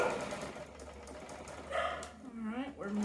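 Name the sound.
sewing machine stitching quilted door banner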